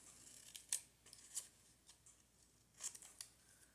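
A few quiet scissor snips cutting paper for a junk journal, spaced out in a soft room with no talking: two isolated cuts early, then a closer pair near the end.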